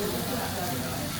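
Food sizzles steadily on a hot Chinese table grill in a restaurant, a continuous close frying hiss that runs unbroken while someone talks.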